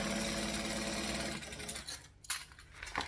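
A sewing machine back stitches on a handbag, a steady mechanical whir for about a second and a half that then stops, followed by a few faint clicks and handling noises.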